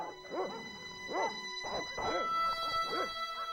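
Dogs in the Broken Sword: Shadow of the Templars Reforged video game give several yipping barks and whimpers in uneven bursts, fairly soft over a steady background tone.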